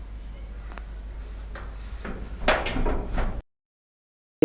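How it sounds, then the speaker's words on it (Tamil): An indoor door is pushed shut, with a few soft knocks and scrapes building to a brief louder thud and rattle before everything cuts to silence. "கதவு க்ளோஸ் பண்ணிடு."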